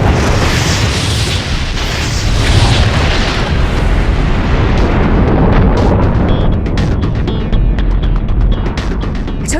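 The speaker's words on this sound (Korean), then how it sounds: "저기 보세요. 별이 폭발하고 있습니다." A star blowing apart in a supernova explosion within the Eta Carinae nebula, rendered as a loud, sustained rumbling boom that roars steadily for the whole stretch with crackling bursts layered on top.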